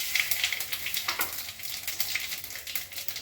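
Bay leaf and cumin seeds sizzling in hot oil in a home kitchen, the first step of a Bengali bottle gourd and shrimp curry. The crackling frying noise is steady and close, with sharper spits now and then and no talking.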